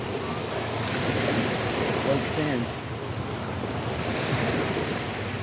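Ocean waves at high tide on Fort Myers Beach wash in as a steady broadband roar of surf mixed with wind buffeting the microphone, while someone speaks briefly over it.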